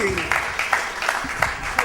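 A crowd at a synagogue hillula celebration in Haifa's Congress Garden claps for Rabbi Eliyahu Shauli, a brief burst of scattered, fairly close handclaps, while people talk over it.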